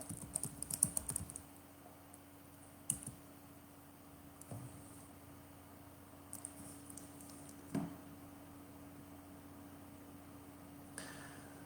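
Quiet keyboard typing while entering an email address, a quick flurry of soft key taps at the start followed by a few scattered isolated clicks over a steady low background hum.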